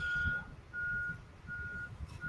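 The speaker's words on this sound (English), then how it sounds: "It's the garbage truck." A garbage truck reverses nearby, its backup alarm sounding three steady high beeps at an even pace over a low engine rumble, with no talk.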